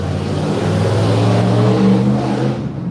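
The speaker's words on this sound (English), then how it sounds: "these cars are flying" Cars speed past nearby on a road, engines roaring loudly with rising and falling pitch as they go by, close and continuous.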